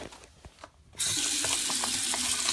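Tap water gushes steadily into a dog's drinking bowl, starting abruptly after a second of quiet room sound, then running loud and continuous to the end.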